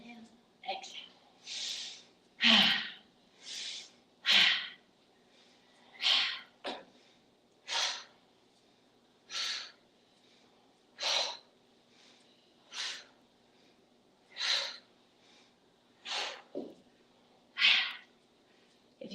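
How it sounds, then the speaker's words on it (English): Deep breaths from tai chi practice come as a rhythmic series of airy inhales and exhales, about a dozen evenly spaced bursts. They are close and soft, and the room around them is quiet. "one way you can do it is inhale, exhale, inhale, exhale"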